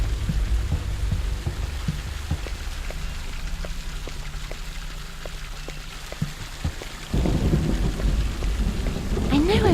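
Video game thunderstorm with steady rain, a low rumble of thunder building then a loud crack near the end, and faint intermittent clicks in the background.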